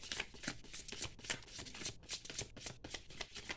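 Tarot cards handled and shuffled by hand, a quick run of close, quiet riffling and flicking bursts with short pauses between them, with no talking.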